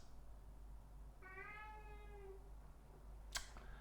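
A single drawn-out cat meow, fairly quiet against a low steady hum of indoor room noise, followed by a brief sharp click near the end.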